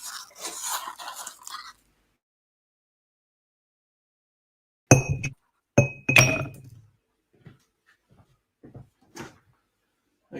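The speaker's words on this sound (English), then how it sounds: "I want ice in my mixing glass" Ice cubes drop and clink into a mixing glass for martinis, a few bright separate knocks and rattles close by, with quiet gaps and a little faint handling between them.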